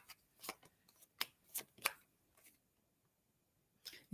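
Tarot cards are shuffled and pulled close and quietly, with a series of short crisp riffles and flicks spread unevenly across the stretch, separated by near-silence.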